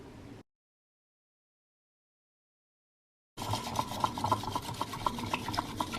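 Strawberry matcha mixed in a cup with Nami matcha powder, a steady close scraping and rubbing whisk rhythm that begins after a stretch of silence and continues to the end.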